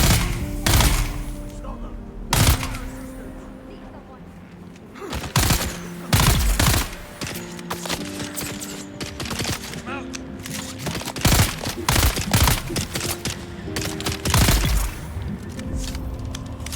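Bursts of gunfire in the video game Dune Awakening, sharp repeated shots in irregular clusters over a steady ambient game soundscape, loud and close.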